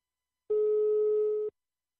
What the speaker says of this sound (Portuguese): Vou ligar pra Osiné.